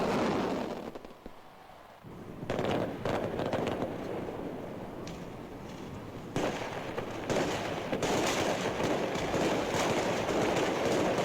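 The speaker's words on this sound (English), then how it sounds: "there was a grand fireworks display on Black Star Square" Fireworks display over Black Star Square in Accra in 1961, a dense, continuous crackle and rumble of bursts that swells after a brief lull and stays loud to the end.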